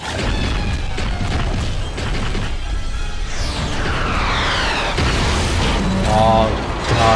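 Cannon or gun fire booms and crashes in World of Warcraft, heavy repeated blasts with whooshing debris, mixed with game voices.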